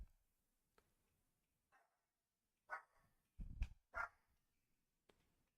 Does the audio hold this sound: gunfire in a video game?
no